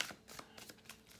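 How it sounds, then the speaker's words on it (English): Tarot cards are shuffled by hand in a quiet room, a series of soft, quick riffling swishes and taps in an irregular rhythm, faint and close. "I'm doing a lot of shuffling for you Sagittarius"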